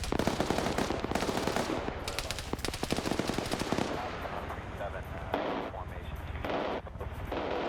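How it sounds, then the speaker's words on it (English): A PKT machine gun fires in a military video game, with long rapid bursts of gunfire and heavy booms layered over distant battle noise and voices talking throughout. "PKT starts firing on Pons"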